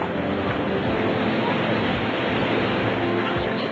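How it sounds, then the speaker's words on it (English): Heavy rain pours steadily outside, a dense, unbroken hiss of falling water that stays loud and even throughout with no pauses. "It's still pouring outside"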